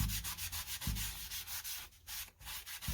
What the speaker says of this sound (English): Take a little bit more of your wax, put it down, and then you can rub more off.